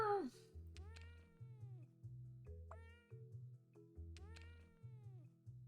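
Several cats meow in repeated drawn-out calls over a steady rhythmic electronic backing, the meows quiet and spaced roughly a second apart.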